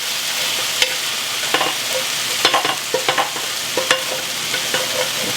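Cooked beef for a beef and broccoli stir fry sizzles steadily in a pan, a constant hiss broken by scattered clinks and scrapes of utensils, with no talking.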